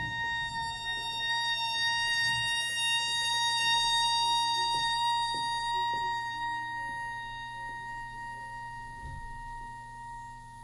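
An oboe holds a long sustained B flat, a steady reedy tone with rich overtones that swells gently and fades, with faint background knocks under the note.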